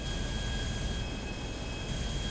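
Steady, loud engine drone and rushing wind from an aircraft flying over Los Santos in GTA 5, a constant hum with no breaks and no voices.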